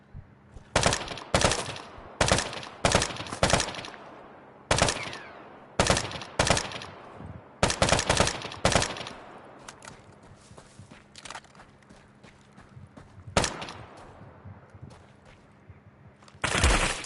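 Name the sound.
video game gunfire, people shooting at the player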